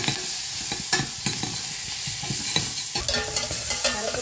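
Garlic and onions fry in oil for a dal, a steady sizzle running under repeated scrapes and knocks of a spoon stirring the pan, close and alone with no talk.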